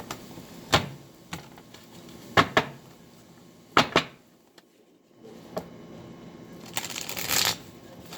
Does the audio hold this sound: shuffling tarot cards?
yes